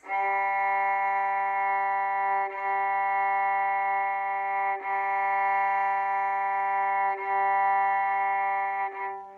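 A violin's open G string, its lowest, bowed on a steady note, sustained with a few audible bow changes, played alone and up close.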